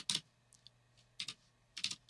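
Quick bursts of typing on a computer keyboard, close and fairly quiet, in short clustered clicks with brief pauses between them.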